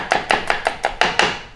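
A knife slices garlic and shallots on a cutting board with seven crisp, evenly spaced chops in quick succession, close and fairly loud, with no voices.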